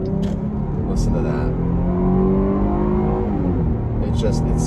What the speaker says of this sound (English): And then you got this V6 engine, and when you step on it, getting on the highway, listen to